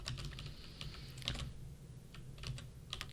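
Code being typed on a computer keyboard, a quiet, uneven patter of individual key clicks in short bursts with brief pauses between.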